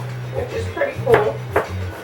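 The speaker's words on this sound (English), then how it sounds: "I have to fine chop these now" Knife chops vegetables finely on a cutting board, a few quick taps and thumps in an uneven rhythm, close and fairly light, over a low background hum.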